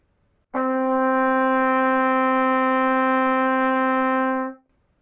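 A single sustained brass tone from a trumpet playing the note D, held steady for about four seconds at an even, fairly loud level before cutting off cleanly.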